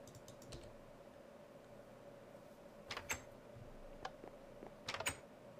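Fast keyboard typing in a Minecraft chat, heard as a few quick bursts of key clicks over a steady low hum of background noise.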